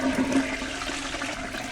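A toilet flushes in the video game Deponia, a loud close rush and gurgle of water that continues steadily with no talking.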